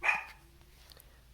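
A single short bark from a dog in a home, brief and moderately near, followed by quiet with faint distant yips.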